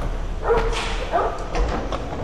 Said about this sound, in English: he's a very good, but very dangerous dog